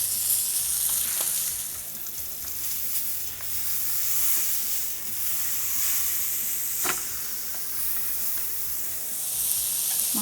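Masala-coated fish fries in a pan with a steady, close sizzle and bright hiss throughout, broken by occasional sharp crackles and pops, with no one talking.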